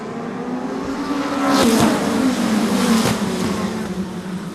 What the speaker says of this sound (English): These are the Northeastern Midget Association stars and cars, and here they come.